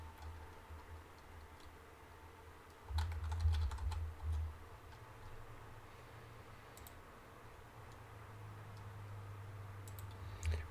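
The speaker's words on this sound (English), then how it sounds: "If I could type it correctly." Typing on a computer keyboard, quiet irregular clicks with a denser burst of keystrokes in the middle, close but soft against a low hum.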